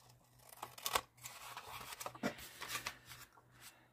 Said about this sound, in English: all I'm going to do here is cut right like that